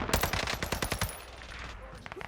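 Assault rifle fire from Call of Duty on the Caldera map: a fast burst of sharp, loud shots in the first second, then a quieter stretch with faint game ambience and a few small clicks near the end.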